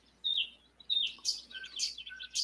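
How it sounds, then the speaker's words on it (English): Birds chirping outdoors, a series of short bright tweets and a few trilling calls repeating every half second or so, fairly close and clear over quiet background, no talk. "Let's listen to the birds."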